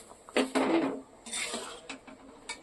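A lid goes onto a pot of boiling eggs, making a couple of close metallic clanks and rattles that settle into lighter clinks.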